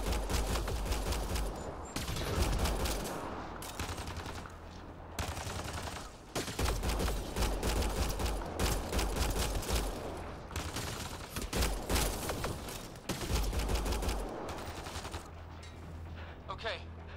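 Sci-fi firefight in Mass Effect Andromeda on Xbox One X: repeated volleys of gunfire and bursts of shots rattle through a sustained battle, with brief pauses between loud clusters.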